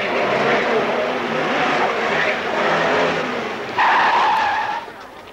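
A car pulls away with tires skidding, loud and close, the engine and screech sustained, then a sharper high squeal bursts in near the end before cutting off.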